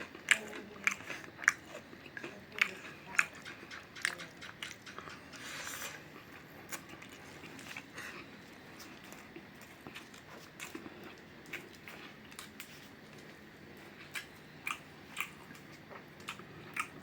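Close, wet chewing of small bony fish with rice: steady mouth sounds broken by sharp crunchy bites of the little bones, no talking.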